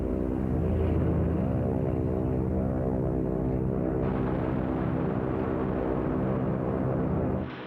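World War II bombers and fighters flying in a massed formation of American aircraft, a loud steady propeller drone with deep rumbling harmonics that holds throughout and eases slightly at the end.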